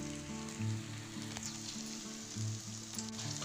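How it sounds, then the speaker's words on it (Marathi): Okra bhaji fritters drop into hot oil and fry with a steady, close sizzle and soft bubbling crackle, a low hum running beneath, no voices. "तेल झालं झालं बघा मस्तपैकी सुमित्रा भजी टाकत आहे"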